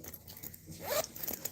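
A zipper slides along a leather crossbody bag in one quick, close rasping pull, with small handling rustles before and after.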